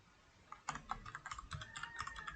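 Rapid, light clicks from a computer keyboard patter along steadily at close range and low volume, with no talking over the keystrokes.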